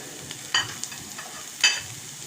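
Baby corn, carrots and sweet corn are dropped into a pot for Indian mixed vegetable soup, with two short sizzling bursts and scraping stirs against a soft, steady cooking hiss.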